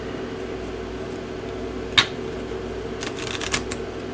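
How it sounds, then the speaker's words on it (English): A deck of game cards for The Ninth World, a skillbuilding card game, shuffled with a soft steady riffle, then a sharp snap near the middle and a few crisp bursts of card slapping toward the end. "you really want to do a good shuffle on this"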